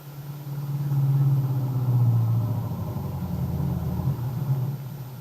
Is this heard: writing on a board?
no